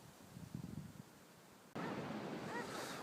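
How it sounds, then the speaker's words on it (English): Ocean waves and surf on a shore, a faint low wash of water with a few soft surges at first, then a louder continuous hiss of breaking surf and wind taking over midway. "Well, I'm here at the ocean."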